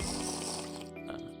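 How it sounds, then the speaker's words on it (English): Drinking from a water flask in the Minecraft Aged modpack, a short close gulping, gurgling liquid sound that fades toward the end. "so that way we don't have a loud water flask drinking"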